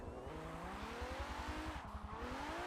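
A 1969 Nissan Fairlady Z tuned to 439 bhp drifts in Forza Motorsport 7, its engine revving with a pulsing, rough note and faint tire squeal, steady and fairly close, no talk.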